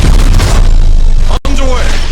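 Warship main batteries in Battlefleet Gothic Armada 2 boom in a loud, heavy barrage that fills the moment, with a brief dropout before rumbling resumes and a voice briefly heard.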